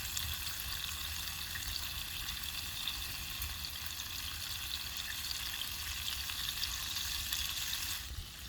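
Steak sizzles steadily in butter in a pan, a loud, continuous frying hiss with crackle that carries on without pause.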